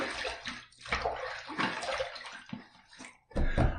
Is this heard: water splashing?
yes